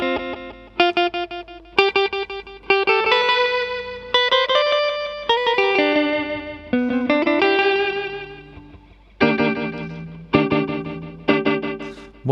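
An electric guitar runs through a DemonFX Reverb & Delay pedal in subdivided delay mode, plucked notes and chords each trailed by rhythmic, divided echo repeats and washy reverb, loud and close with no talk.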